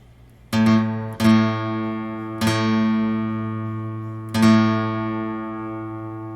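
Guitar strings tuned by ear at the 5th fret: four separate plucked notes ring out and sustain, each new pluck overlapping the fading one, with no talking.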